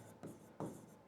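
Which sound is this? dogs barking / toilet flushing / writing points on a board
writing points on a board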